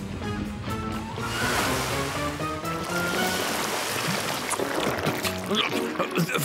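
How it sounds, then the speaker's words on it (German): Cartoon water spray blasting slime off a police officer's car, a loud continuous rushing wash of water with splashy sloshing throughout. "Morphle, sprühe den Schleim mit deinem Wasser weg."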